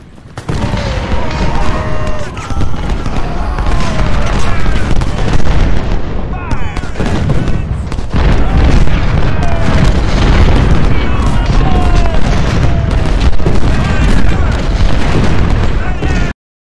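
Artillery fire and explosions in a Civil War battle in Ultimate General: Civil War at Malvern Hill, a loud dense barrage of overlapping booms and gunfire volleys running continuously, with voices faintly mixed in.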